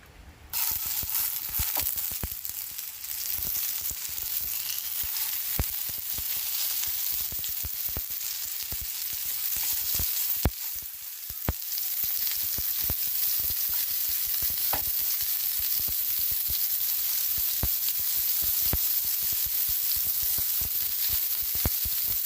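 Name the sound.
chicken kababs frying in oil on a dosa tawa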